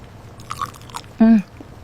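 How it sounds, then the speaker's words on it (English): A brief crunchy bite and chew of food close up, followed by a short hummed vocal sound. "Chew your food slowly."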